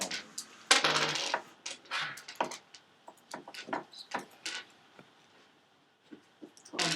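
Dice clattering and rolling across a table during a Dungeons & Dragons tabletop game, a series of sharp scattered clicks and rattles in quick bursts, close by, with short pauses between throws.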